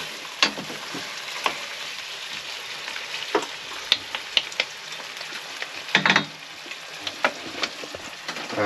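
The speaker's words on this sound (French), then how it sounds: "qui se sont ramollis, les oignons, je les défais bien" Softened onions sizzle in a pan in a camping-car kitchen, with a steady low frying hiss broken by repeated sharp scrapes and clicks of stirring.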